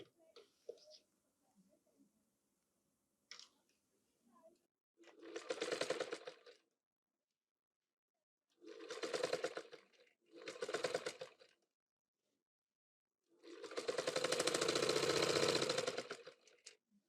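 An electric sewing machine stitches a folded petticoat armhole in several separate bursts of rapid, steady whirring, the last run longest, with quiet pauses and faint handling between them.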